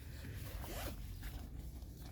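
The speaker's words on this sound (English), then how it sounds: "So I'm going to zip that into place." A zipper being drawn along to fasten a seat attachment onto a Pronto Squared baby seat, one continuous close pull with a brief rising rasp in the middle, alone with no talk.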